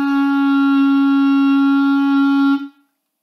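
A clarinet sustains a single low E-flat note, steady and clear for about two and a half seconds before it cuts off, played alone.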